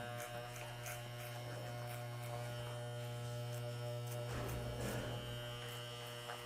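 An electric hair clipper runs steadily in a steady buzzing hum while cutting hair for a fade, with brief scratchier bursts as it passes through the hair.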